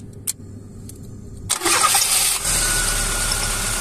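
A car engine with a freshly repaired starter motor cranks and catches at about 1.5 seconds, then settles into a steady, close idle with no talk.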